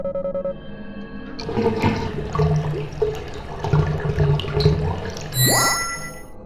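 A toilet flushes in the video game Deadly Premonition, a rushing, gurgling wash of water lasting several seconds before a bright rising chime rings out at the end.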